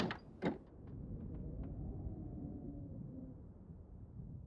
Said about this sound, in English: open door.